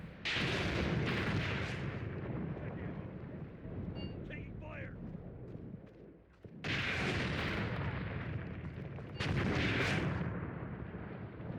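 Artillery strike in the WWII tank game Tank Warfare: Tunisia 1943, with loud, sustained booming blasts that surge twice, broken by a short quieter gap, while a voice comes and goes across the clip.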